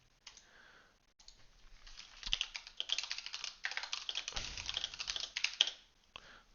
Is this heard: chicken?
no